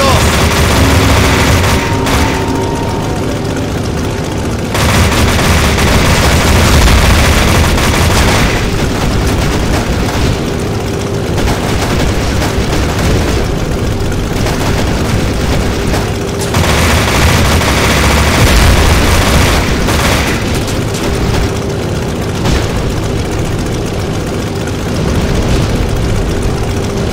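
Sustained gunfire blasting aircraft in the video game Necrovision, loud, dense bursts of rapid shots and booms over engine noise that come in repeated volleys over nearly half a minute.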